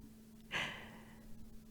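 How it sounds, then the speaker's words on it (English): A single deep breath is drawn in close to the microphone, a short airy rush that fades into a quiet steady hum. No talking. "Good breath with me."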